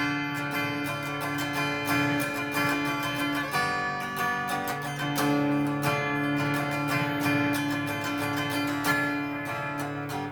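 A mid-90s Fender Squier Strat played clean through a full song passage, rhythmic strummed chords with ringing sustained notes, steady and close, no voices over the playing.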